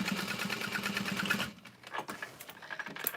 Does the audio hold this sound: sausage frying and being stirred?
no